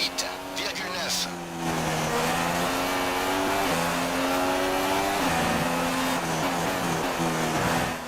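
An F1 car in F1 2016 at Monaco on worn ultra-soft tyres, engine whining loud and close as it changes pitch through gears, with a tyre squeal from locked wheels blended into the roar.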